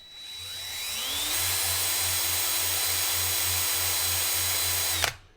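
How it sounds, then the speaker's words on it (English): Power drill spinning a coil wire in forward direction to loosen it from its core, a loud steady motor whine that ramps up, holds for about four seconds, then stops abruptly. "I'll put this in forward direction so that we're spinning this way, and I'm just gonna grab this little tail and spin it up a little bit"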